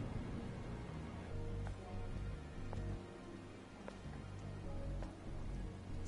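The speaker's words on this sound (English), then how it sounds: "This must be Earth's rain." Steady rain falling in the video game Stellar Blade, a dense continuous hiss with faint scattered droplet ticks, alone with no voices.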